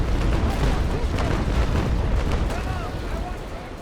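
Heavy booming cannon fire from sailing warships in the Naval Action game, a dense rumbling barrage that fades slightly, with a voice talking over it.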